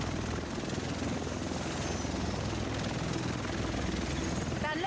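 A helicopter in the video game The Division keeps up a loud, steady rotor and engine drone, with a brief voice cutting in near the end.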